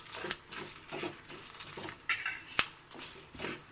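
Byadagi chillies being stirred and roasted in a pan for a traditional Mangalore Brahmin-style huli, with a utensil scraping and clinking against the pan in irregular close strokes and one sharp metallic knock.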